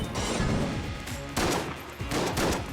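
Sawed-off shotgun blasts in the video game Enter the Gungeon, several loud booming shots in quick succession amid dense game sound effects, no talking.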